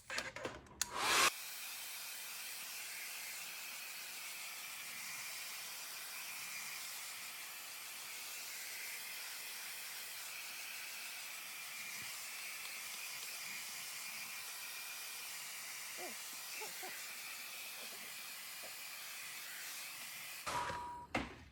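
A hair dryer blows steadily on a mixed media paint layer of pencil and china marker for about twenty seconds, a continuous loud broadband hiss with no talking.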